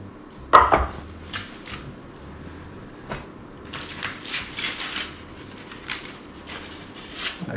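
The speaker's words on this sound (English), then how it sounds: "We're now going to slice this up and we'll see." A knife slices through a dry-aged beef rib on a board, with a sharp knock near the start followed by bursts of soft cutting and scraping, close and without talk.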